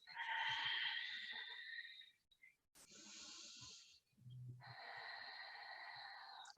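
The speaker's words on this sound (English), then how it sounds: "Just practicing deep, slow breaths." Slow, deep breaths during a vinyasa yoga plank pose: long airy inhale and exhale passages separated by short pauses, close and soft, with no talking.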